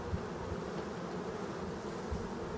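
A honeybee swarm from a spring colony division, with queen cells, buzzes as it is hived in an apiary, a steady dense hum with no voices.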